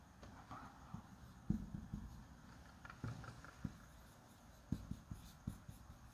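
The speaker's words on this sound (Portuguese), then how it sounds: "deixa eu escrever aqui" A pen writing by hand on paper: faint, close scratching strokes with light taps as words are jotted down, quiet and uneven in rhythm, with no talk.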